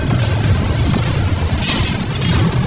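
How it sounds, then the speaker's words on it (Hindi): Cannons blasting through and smashing apart storage containers, a dense, continuous roar of heavy booms and crashing debris, loud and close throughout. "वो कैनन जैसे आर पार हो रहे हैं जैसे वो बटर हो।"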